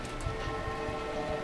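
Steady rain patters and hisses under a stormy sky with a constant dense wash of drops and no voices.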